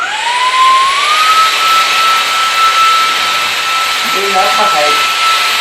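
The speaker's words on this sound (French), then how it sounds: "Et je vais aller aspirer la couverture où souvent j'ai des miettes parce que je mange devant la télé." A VacTechPro V15 Ultra stick vacuum cleaner runs loud and steady while vacuuming a blanket, its motor whine rising in pitch at the start, with someone briefly speaking French over it near the end.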